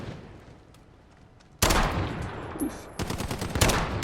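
Gunfire from the Dragunov sniper rifle in Modern Warfare, sharp loud shots cracking in quick sequence after a quiet start, close and dominant, with a brief exclamation from a voice.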